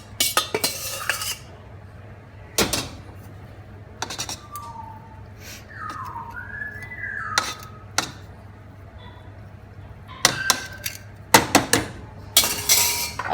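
A metal spoon clinks and scrapes against a container as cooked chicken biryani rice is scooped in, with sharp irregular taps in bursts, some clustered near the end, over a soft kitchen background.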